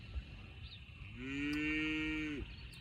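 A Jersey house cow moos once in a long, drawn-out bellow that holds steady for over a second and then drops off. It sounds fairly close, over faint outdoor background and with no talking.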